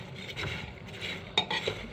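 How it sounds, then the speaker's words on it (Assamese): Homemade popcorn being stirred after salting, giving soft rustling and light scraping in a pot with a couple of sharper clinks, quiet and close, no talking. "নিমখ দিয়াৰ পিছত এনেকৈ লৰাই দিছোঁ"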